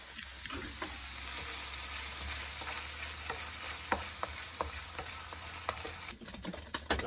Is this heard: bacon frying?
yes